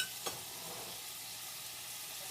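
Portabella mushrooms stir-fry in a pan on high heat, giving a steady hissing sizzle with a light clatter near the start, alone without talk.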